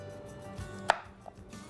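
A single sharp chop through raw, unboiled carrot into small pieces in a home kitchen. One loud knife strike on the board comes close, with a softer tap after it, over a quiet background.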